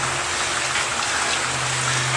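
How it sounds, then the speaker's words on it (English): Steady rain falls into a rain barrel fitted with a brass fitting, making a dense, even hiss of drops with a low water rumble. It holds constant throughout, with no voices. "So look at all this damn rain coming down."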